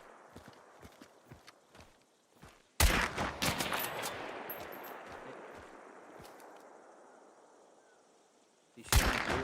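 Two loud sniper rifle shots ring out in the Hunt: Showdown bayou. Each sharp crack is followed by a long rolling echo that fades over several seconds, and the second shot cuts in near the end. Faint footsteps and small sounds come before the first shot.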